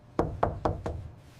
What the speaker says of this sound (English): I knocked on Sasha's door to ask about the money, but got no answer